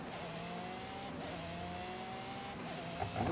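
A car driving in Forza Horizon 5, with a steady engine drone and a rising whine of revving held for a few seconds and no talk over it.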